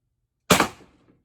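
A single sharp shot from a Pepperball TCP launcher, a close, abrupt pop with a brief decaying tail, following silence.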